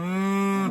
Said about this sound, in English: That's not what the cattle are screaming about.